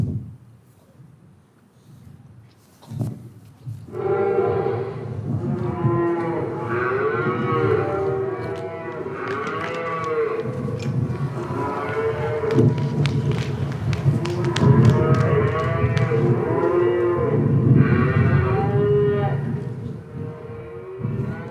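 Cows mooing inside a dairy during a stage show, several long, loud, overlapping lowing calls that swell and rise over a steady background murmur, with a brief knock early on before the calls start.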